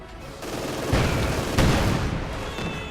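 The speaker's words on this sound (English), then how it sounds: "45mm gun firing away" Anti-tank gun of 45mm calibre firing in the strategy game Company of Heroes 2, two heavy booming shots about half a second apart under a dense bed of battle noise and scattered gunfire.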